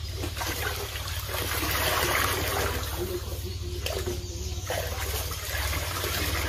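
Water poured into a container on a poultry farm, during vaccine preparation for chicks, a steady broadband trickle and gush running throughout beneath a low hum.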